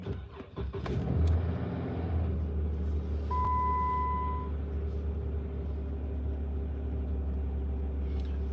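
A car engine cranks and catches near the start, then settles into a steady low idle rumble that runs on alone, close and fairly loud.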